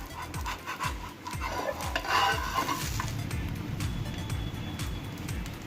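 Spinach dosa frying on a hot pan just after flipping, with a steady close crackling sizzle and a few soft scraping stirs and clinks early on, no voices.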